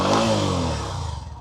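A Hero 125cc motorcycle engine is revved with the throttle, rising sharply at first and then falling back toward a settling idle, close and fairly loud.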